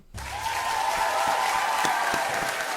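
A crowd breaks into steady, dense applause that starts abruptly and holds at full strength throughout.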